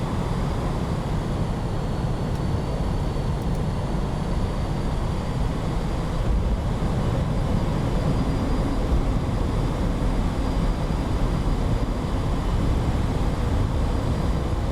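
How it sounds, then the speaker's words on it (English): A jet taking off in the Flaming Cliffs flight sim gives a steady, loud, broadband roar of rushing engine noise that holds throughout without any voices. "That takeoff seemed ridiculously long."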